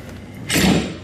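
A cold room door is pulled open from inside using its safety release: a quiet lead-in, then a sudden loud clunk and rushing whoosh as the heavy door unlatches and swings.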